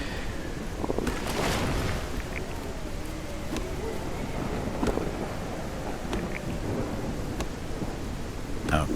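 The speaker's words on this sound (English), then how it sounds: "How long is this storm going to go on for?" Thunderstorm in the medieval survival game Crestfall, with steady heavy rain hissing throughout and several distant rolls and cracks of thunder rising out of it, loud and continuous across the whole stretch.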